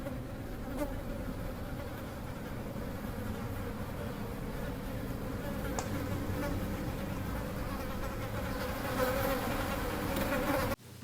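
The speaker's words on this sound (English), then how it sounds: "insect-like buzzing that preludes the arrival of beings that look like people, right? It's like a really creepy buzz sound." Creepy insect-like buzzing from the horror film They Look Like People, a dense droning swarm hum that holds steady and loud for the whole stretch, with no voices, before cutting off abruptly at the end.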